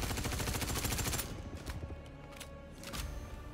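Rapid automatic gunfire from weapons in the Star Citizen space game, loud dense bursts of shots for over a second, then sparser scattered shots and a second sustained volley near the end, no talking.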